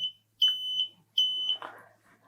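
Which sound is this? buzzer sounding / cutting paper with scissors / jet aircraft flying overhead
buzzer sounding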